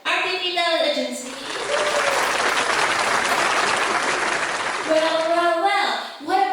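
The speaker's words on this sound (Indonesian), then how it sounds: "Boleh dong tepuk tangannya buat RTV Talent Agency." Applause from an event audience before a talent agency performance, a dense burst of clapping in the middle, framed by a voice talking at the start and near the end.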